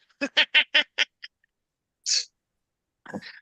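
A duck quacks in a quick run of about six loud, clipped calls, then lets out two more separate quacks after a brief pause. No voices accompany it.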